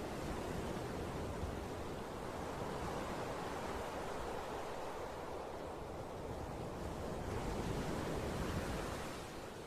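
Ocean waves wash steadily onto the small beach at Hout Bay in Cape Town, South Africa, a continuous broad surf roar with gentle swells, heard alone without voices.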